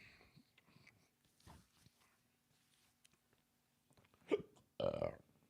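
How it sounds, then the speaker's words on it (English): Hiccups and burp-like gulps from a man whose nicotine gum set them off, mostly quiet breaths at first, then two loud, close bursts near the end, with no talking. "Dude, I got hiccups so bad right now."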